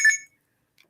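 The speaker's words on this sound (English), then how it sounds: "My alarm telling me that I'm late" A short alarm tone on a phone, a single bright beeping burst at the start followed by near silence and a faint blip.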